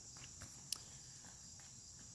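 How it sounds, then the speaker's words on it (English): Faint outdoor insect chirping, probably crickets, carrying a steady high-pitched drone through the whole stretch with a few soft taps and one brief sharp click. "So bugs out here, man."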